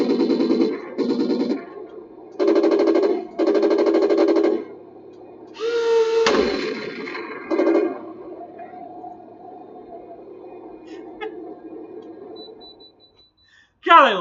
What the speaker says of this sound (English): Two different machine guns.